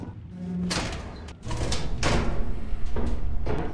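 In the video game Lethal Company, a door opens in several loud bursts: a creaking scrape followed by heavy thudding slams spread over a few seconds, close and prominent, with faint voices underneath.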